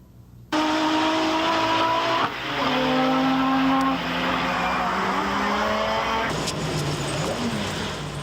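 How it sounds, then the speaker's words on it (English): A red, white and blue Nissan sports car driven by Paul Newman in 1986 Sports Car Club of America racing roars loudly on track, its engine note climbing and shifting through gears as it speeds past. "Driving a red, white, and blue Nissan, he's favored to win the national championship"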